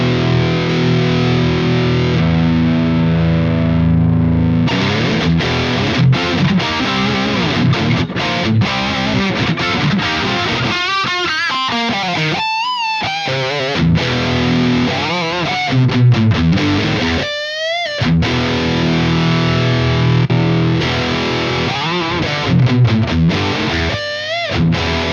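Distorted electric guitar played through an engaged EQ pedal (MXR Ten Band, Boss GE-7 or Boss EQ-200), with sustained chords and riffs ringing loud and steady for the whole stretch, no voices.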